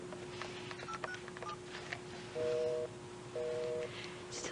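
A telephone is dialed with a quick series of touch-tone beeps, followed by two sustained, evenly spaced busy-signal tones, heard alone and fairly close.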